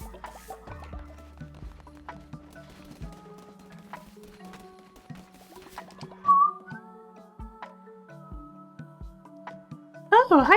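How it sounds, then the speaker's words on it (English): A person gives short, warbling bursts of whistling between stretches of talk, over soft clip-clop and dripping sounds from the game Cult of the Lamb. "I don't think I can whistle well, but I can whistle"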